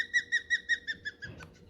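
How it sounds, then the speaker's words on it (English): A bald eagle or osprey gives a squeaky, thin call like a tiny bird, a rapid series of about eight high, piping chirps that weaken in a row before a brief faint scratch. "bald eagles and osprey they sound like a tiny bird"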